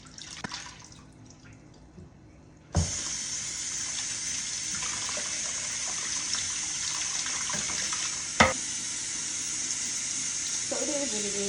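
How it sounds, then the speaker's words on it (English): Cold tap water runs steadily as a dyed 613 blonde wig is rinsed in a sink, beginning abruptly with a strong splash and continuing as a broad, close hiss with a brief knock partway through. "I'm about to wash it out now in cold water"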